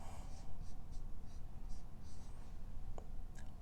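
Pen or marker writing on a board during a medical lecture on congenital heart defects, a faint continuous scratching with short repeated strokes over a low room hum, no talking.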